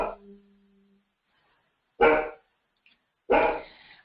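A dog gives two sharp, close barks about a second apart after a brief quiet spell, loud against otherwise silent surroundings.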